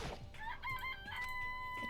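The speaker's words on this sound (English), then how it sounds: "This place even has chickens, huh?" In the video game Danganronpa, a chicken clucks and then crows in a drawn-out, wavering call, close and clear above continuous game music, with nobody speaking.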